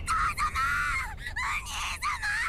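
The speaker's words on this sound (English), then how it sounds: "That voice actress is so good at screaming." A voice in an anime episode screams in long, piercing, wavering cries, several drawn-out wails broken by brief gasps, loud and up close.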